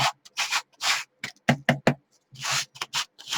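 Repeated hand-sanding strokes rub over a plaster and wax surface, coming in short bursts with brief pauses between them, close and moderately loud with no talking.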